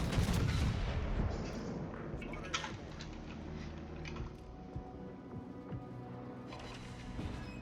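Naval guns firing in the video game Marco Polo: a heavy booming volley up front, followed by a rumbling, scattered run of distant blasts and crackles that fades to a steady low battle din.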